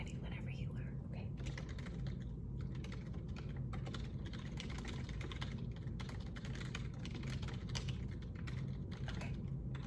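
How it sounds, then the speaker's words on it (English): Computer keyboard typing in a close, quiet ASMR-style resume roleplay: a continuous patter of soft key clicks runs throughout, steady and fairly even, with faint whispering underneath. "I'll kind of type it in and phrase it nicely"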